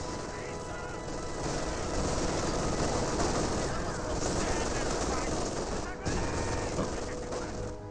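MG42 machine gun fire in Company of Heroes 2, dense rattling bursts of battle gunfire sustained across the whole stretch amid other combat noise, with a commentator's voice talking over it.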